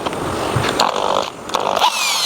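A power drill drives screws into a wooden Christmas crib frame in short, whining bursts of motor buzz that rise and stop a few times in quick succession.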